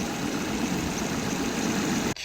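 A Ford Puma with a Zetec engine idles at close range with a steady, even mid-low hum, running continuously until a sudden knock cuts in near the end.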